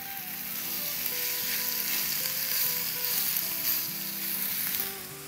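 Thin burger patties fry in a hot pan over a low flame, giving a steady, close, fairly loud sizzle that fades slightly at the end, with no talking.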